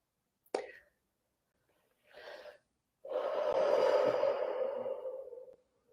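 Breathing during a guided meditation, heard close and alone: a sharp intake, a short breathy puff, then a long, slow, airy exhale that fades out.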